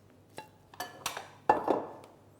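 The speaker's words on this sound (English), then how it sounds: "Let me just get a bowl because we will use this for something else." A bowl is taken out and set down in a home kitchen during raw vegan lasagna prep: a few light clinks and knocks of dishware, then one firmer ceramic set-down, close and quiet.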